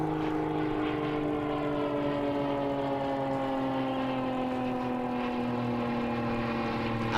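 A bomber aircraft flying over the Pacific Airshow at Huntington Beach, a sustained, loud engine drone with slowly falling tones as it passes, continuous for several seconds with no voices.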